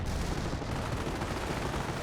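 Dense, continuous roar of battlefield artillery fire in Company of Heroes, a loud unbroken rumble of overlapping blasts and explosions with no pauses or clear individual impacts.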